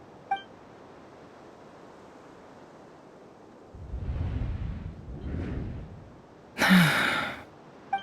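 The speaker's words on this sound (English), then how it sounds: "I heard Yehuda gasp" A female character in the video game Genshin Impact lets out a breathy gasp, set apart from quieter low rumbles and faint chimes of the game's soundtrack.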